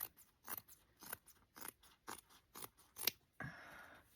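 Scissors snipping through fabric in a crafting setup, about seven crisp, close cuts in a steady rhythm, followed by a brief rustle of material.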